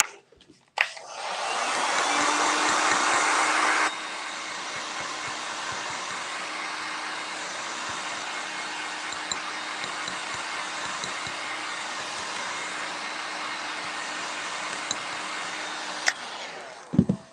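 A dryer blowing on freshly stamped ink on a craft project gives a steady, loud whirring roar. It runs stronger for the first few seconds, then settles to a lower hum for about twelve more seconds before shutting off with a click.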